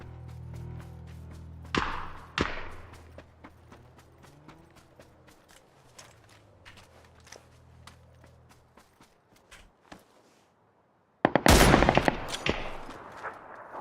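Bursts of PUBG gunfire crack through the scene, a pair of loud shots near the two-second mark, then scattered distant pops and clicks, and a dense, loud volley near the end after a brief lull.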